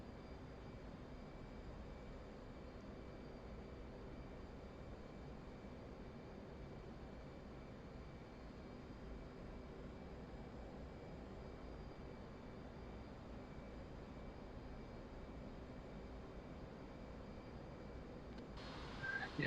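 The engine of the player's plane in DCS World, a faint steady droning roar held evenly for the whole stretch, with a small bump at the very end.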